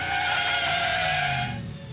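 A cartoon car skids to a stop with a loud, sustained tire screech over engine noise, tapering off near the end.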